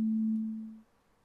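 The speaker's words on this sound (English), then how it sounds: "it automatically creates an oscillator for me with, by default, a basic sine wave" A basic sine wave oscillator in the Absynth 4 synthesizer plays a single A note: a pure, clean steady tone that fades out smoothly after under a second, then silence.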